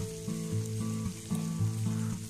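Blended balado chili spice paste sizzling and frying in a pan, a steady close crackle with periodic stirring scrapes and no voices.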